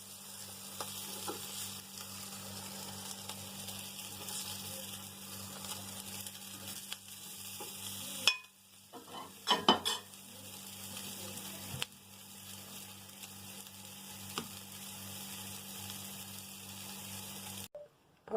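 Sardine kefta frying in oil, a faint steady sizzle with a brief louder stretch of clatter and stirring midway, heard close and quiet throughout.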